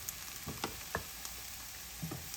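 Eggplant pieces fry in oil with a steady close sizzle, broken by a few soft stirring clicks and pops.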